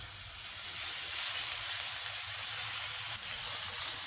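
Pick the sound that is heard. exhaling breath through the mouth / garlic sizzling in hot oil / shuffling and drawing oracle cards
garlic sizzling in hot oil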